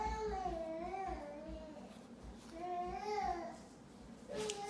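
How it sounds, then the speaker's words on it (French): A small baby cries and babbles in the background of a home knitting session, with wavering, drawn-out wails rising and falling in a few bursts, fairly faint, with no talk over it. "Ça se peut que vous entendez un petit bébé crier en arrière."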